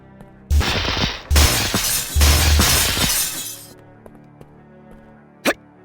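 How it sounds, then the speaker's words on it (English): Glass windows shattering in the PC game KISS Psycho Circus: a loud, bright burst of breaking glass that runs several seconds with tinkling debris, then quiet and one short sharp crack near the end. "The glass windows can also be broken."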